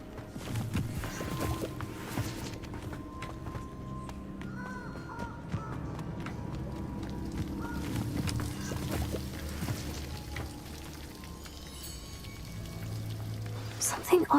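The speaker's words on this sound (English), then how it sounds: "The waterfall." Rushing water from a waterfall in the Forbidden Forest of the video game Hogwarts Legacy, a steady broadband roar that fills the clip, with voices and game sounds over it.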